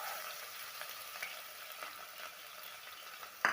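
Onions sautéing in hot oil for vegetable biryani, a soft, steady sizzle close by, ending with a sharp utensil clink.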